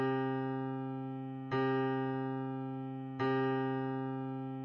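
Piano note C struck once and left to ring in a note-guessing ear test, a steady sustained tone that is repeated at an even interval, clear and alone with no voices.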